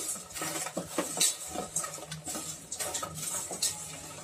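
Tomatoes, salt, chilli powder and turmeric being mixed in a pan, with steady scraping and clinking of a utensil against metal and soft irregular patter throughout, close by and without any talking.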